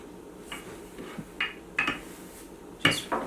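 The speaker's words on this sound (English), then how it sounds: "Just roll it out and try to roll it out wide, to be wide, like so." Milk bread dough being rolled out on a floured board: a few scattered, fairly quiet wooden knocks and clacks come at irregular intervals over a soft background.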